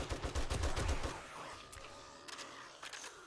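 Rapid bursts of heavy gunfire from big guns in the survival game 7 Days to Die, a dense rattling volley in the first second that then thins into a few scattered, quieter shots.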